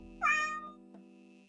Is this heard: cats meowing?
yes